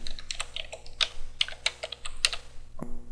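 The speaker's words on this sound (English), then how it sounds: "So let's type in that server name and see what happens." Close, crisp keystrokes tap out a short string on a computer keyboard in an irregular rhythm, with a single louder key press near the end, no talking.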